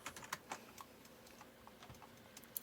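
Keys clacking on a computer keyboard as a search for lifter is typed into automotive repair software, a brisk irregular burst of close taps with a few louder strikes.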